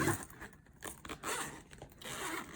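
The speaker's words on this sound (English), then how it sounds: "And they have these zippers." A zipper on a sturdy pencil case wristlet is pulled open in several quick, close rasping strokes with brief pauses between them.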